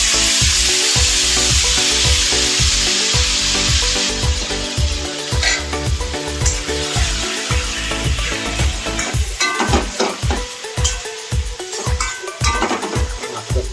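Marinated chicken for a red Bengali chicken curry fries in oil left from frying potatoes, a loud, close, continuous sizzle broken by rhythmic stirring scrapes.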